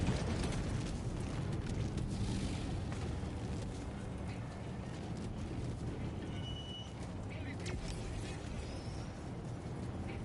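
In the video game Helldivers, an Eagle airstrike delivers heavy explosions as a dense, roaring, rumbling blast wash that stays loud and continuous throughout, with crackling bursts layered on top.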